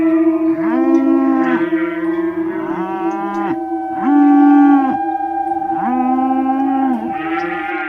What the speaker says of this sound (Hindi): उसकी गायें भी अजीब व्यवहार करने लगती हैं। वे एक साथ नहीं रहती और अजीब आवाजें निकालती हैं।